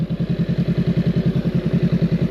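A Honda Rebel 500 motorcycle engine warms up at idle, a close, steady low putter with an even, rapid pulsing rhythm and no voices.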